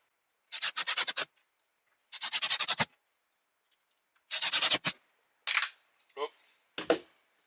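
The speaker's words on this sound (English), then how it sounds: "Screw it down." A plumbing fixture is screwed down into place with several separate bursts of rapid ratcheting clicks and short pauses between them. The sound is close and fairly faint against a quiet background.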